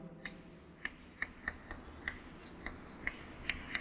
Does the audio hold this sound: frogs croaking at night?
no